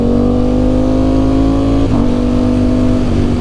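A Ducati Streetfighter V4S motorcycle pulls hard under acceleration, its loud, steady engine drone rising in pitch and dipping sharply at quick-shift gear changes, close to the microphone with no talking.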